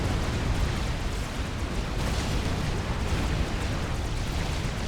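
Commander units trading weapon fire in the Forged Alliance strategy game, a dense continuous roar of explosions and blasts with no distinct gaps, loud and steady throughout.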